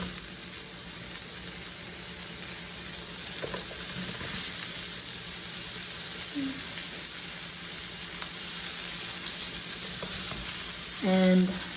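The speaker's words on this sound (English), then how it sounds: "Then we add in the leeks that we sliced up." Sliced leeks sizzle and fry in a tablespoon of rendered chicken fat in a pan, a steady close crackling hiss with occasional stirring clinks and scrapes.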